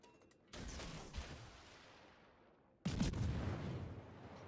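Heavy naval guns fire in a warship battle game, two loud broadband blasts roughly two seconds apart, each followed by a long rumbling decay.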